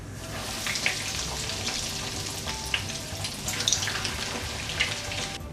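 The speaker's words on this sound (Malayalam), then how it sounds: "ഇനി ബാക്കിയുള്ളതും ഇതേപോലെ തന്നെ വെച്ച് നമുക്ക് പൊരിച്ചെടുക്കാം." Beef-filled chicken drumsticks deep-frying in hot oil give a steady, dense crackling sizzle with scattered sharper pops, close and continuous throughout, with no voices.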